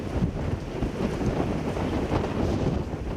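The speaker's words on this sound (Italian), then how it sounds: "Il vento ci sta davvero spostando, è un vento fortissimo" Strong wind gusts in Venice roar across the microphone, a steady heavy rumbling buffet with continuous low-frequency noise throughout, no speech.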